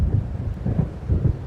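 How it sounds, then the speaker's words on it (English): A thunderstorm rolls in the horror game Alan Wake, with deep, continuous thunder rumbling in waves over a steady wash of rain. "It seems there's a storm coming"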